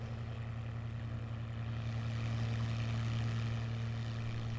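A Curtiss P-40 Tomahawk or Warhawk piston engine in Microsoft Flight Simulator 2020 drones steadily with a deep, even propeller hum and a rough low rumble, constant throughout with no voices.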